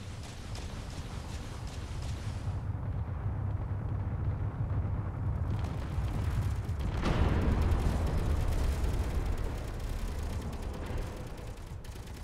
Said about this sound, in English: There's 35 missiles I'm firing off, though.